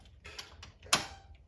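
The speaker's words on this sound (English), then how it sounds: "now we should be able to unlock the door" A door deadlock being turned open, with a few small metallic ticks followed by one sharper, louder click of the bolt, close and isolated.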